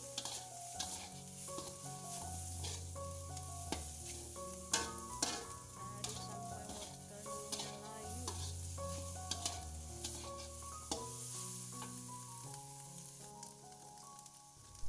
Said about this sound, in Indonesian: Kita aduk lagi. Kita masak sampai sayur wortel parutnya layu.